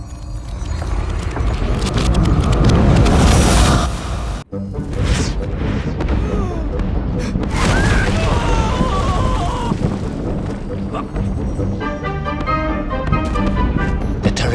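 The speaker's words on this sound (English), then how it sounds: "Explosive eruptions of fire and heat." Explosive eruptions of fire and heat in the video game Little Orpheus: loud, dense booming rumbles and bursts fill the scene, broken by one sharp cut, then continue with roaring blasts and rattling debris under a narrator's voice.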